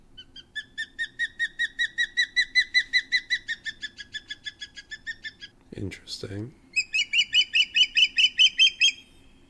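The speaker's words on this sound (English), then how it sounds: "I'm going to play you a bird call now." A recorded wild bird call, likely a corvid, plays as a long run of rapid, evenly spaced piping notes, broken midway by a brief spoken word, then resuming in a second clear burst.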